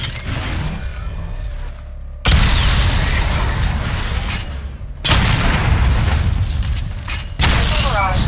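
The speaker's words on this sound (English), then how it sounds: "Destroy targets to charge up weapon energy and activate missile barrage." Missile barrage explosions in the video game Batman Arkham Knight: loud, dense bursts of booming blasts and rumbling debris arriving in several waves, with brief quieter gaps between them.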